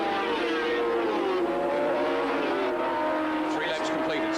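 Racing motorcycles, among them a 150 horsepower Honda, scream past at full throttle on an Australian circuit, a steady high engine whine with shifting pitch under a commentator's voice.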